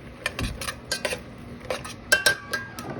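Ingredients being sautéed and stirred in butter in a pan for a creamy cheesy steak sauce, heard as a run of close metallic utensil scrapes and clinks against the pan, irregular and fairly loud, with no talking.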